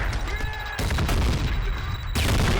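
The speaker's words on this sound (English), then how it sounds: "Maybe if we just keep firing grenades, guys." Grenades fired in the shooter video game Trepang2, a dense loud barrage of booming blasts and gunfire that continues throughout, with sharp new bursts cutting in partway through.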